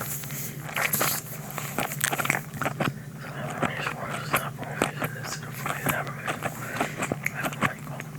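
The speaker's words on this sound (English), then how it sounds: "I feel like I'm chewing too damn hard." Gum chewed hard right against a binaural ASMR microphone, a continuous stream of moist, sticky smacks and clicks at a quick, uneven rhythm, with faint whispering underneath.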